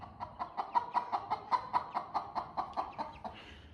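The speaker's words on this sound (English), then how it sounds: "These are 4 of our baby chicks." Four baby chicks scratching about in the grass, giving a quick, steady string of about a dozen soft clucking chirps, close and fairly quiet over a faint outdoor background.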